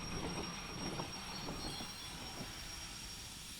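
A locomotive in the train simulator Derail Valley rolls slowly to a halt on a siding, with a steady low rumble, faint wheel squeal and a few soft clanks that fade as it settles, heard alone.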